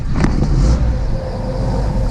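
An M-37 Power Wagon engine running loud and close just after the starter, holding a steady rumbling roar with a brief rev near the start.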